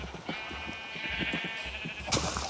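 Sheep bleating in Minecraft 1.17 inside a village fortress airlock, a steady nasal bleat running through the clip with soft footstep-like thumps underneath and a brighter burst near the end, no talking.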